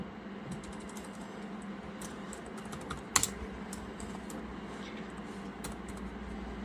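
Quick, irregular clicking of a computer keyboard as C code is typed, steady soft keystrokes close to the mic with one sharper clack midway, no talking.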